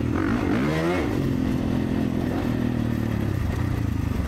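A 2024 Kawasaki KX450 four-stroke motocross bike runs loud and steady on the Stillwater MX track, its engine note rising and falling through a couple of throttle changes with no talk.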